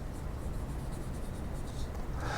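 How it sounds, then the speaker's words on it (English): A pen scratches across a clean sheet of paper, soft continuous close-up scribbling over a low background hum. "On a clean sheet of paper, in the upper left-hand corner, write the word ideogram."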